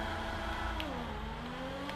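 The engine of a Progen GP1 car in GTA 5 revs up with a rising whine, steady and moderately loud, and no voices are heard.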